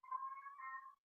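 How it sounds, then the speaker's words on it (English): A pet cat gives a single drawn-out meow lasting about a second, clear and fairly close, with a tonal wavering quality and no talking over it. "Are you listening to my cat's voice?"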